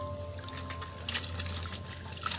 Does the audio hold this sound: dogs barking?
no